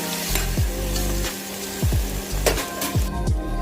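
Onion and tomato fry in a pan for mutton biryani, a loud continuous sizzle with spatula scrapes and stirring knocks recurring every second or so, no voices.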